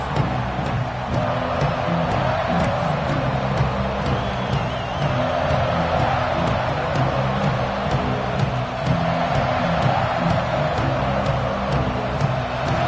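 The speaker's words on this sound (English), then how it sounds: "They challenge this crowd to bring the energy, and I'd say they're doing that." A stadium crowd in a college football video game, Alabama versus Texas A&M, roars steadily throughout as a broad, constant cheering wash with no clear breaks.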